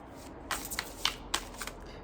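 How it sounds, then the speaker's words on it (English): Tarot cards from a Sailor Moon inspired Magical Tarot deck slap and slide onto a surface in quick soft bursts, close and fairly quiet, with no talking. "So let's go ahead and start throwing cards down."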